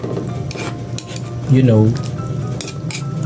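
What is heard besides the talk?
stirring chicken in a cooking pot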